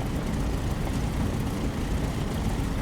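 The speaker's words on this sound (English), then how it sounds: "while you're taxiing out here, your plane is warming up" A propeller plane's engine idles steadily as it taxis in the DCS flight simulator, a dense, continuous rumbling drone at constant loudness with no speech.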